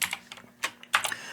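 A computer keyboard typed on in short uneven bursts of crisp clicks, close and fairly quiet, with no talk.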